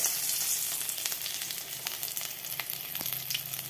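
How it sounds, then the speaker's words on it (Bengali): White cumin and crushed cardamom sizzle in hot oil, a steady close-up frying hiss broken by small crackles and pops, with no talking. "এই জন্য প্রথমে ফোড়নে দিয়ে দিচ্ছি সাদা জিরে।"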